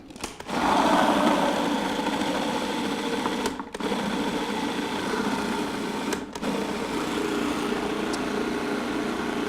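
Electric blender whirring steadily as it purees a pumpkin and dandelion falafel mixture seasoned with salt and pepper, a loud continuous motor drone with two brief dips in pitch and power partway through.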